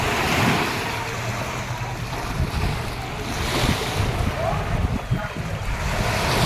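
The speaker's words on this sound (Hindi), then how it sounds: "अग्नितीर्थ समुद्र" Sea waves surge and wash at Agni Tirtham, the sacred seashore bathing spot in Rameswaram, with a steady roar of surf and wind buffeting the microphone throughout.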